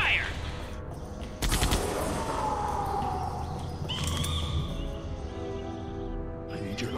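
Gunfire in Jurassic Park: The Game, a sharp burst of shots at the start with further cracks a few seconds later, over tense background sound and a faint rising tone.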